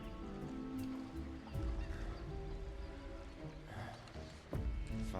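Chocobo calls from the Final Fantasy VII Rebirth grasslands, a few honking bird cries heard over constant background game music and ambience.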